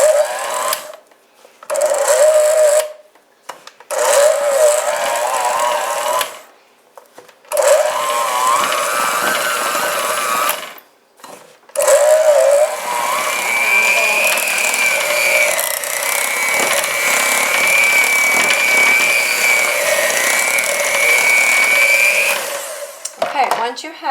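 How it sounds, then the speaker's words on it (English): A small electric hand mixer creams cheesecake batter with coconut crystals, whirring steadily in long bursts with short pauses between them and a rising pitch as it runs. "And then you need a mixer. And this is my little hand one."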